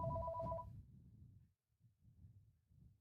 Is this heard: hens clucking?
no